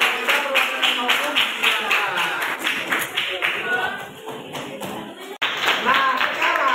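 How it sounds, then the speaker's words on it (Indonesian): Applause for a legal norms student group in a classroom, a crowd clapping in a dense continuous patter that holds through the clip, loud and close, with talk layered over it. "sekali lagi kita berikan aplaus buat kelompok norma hukum"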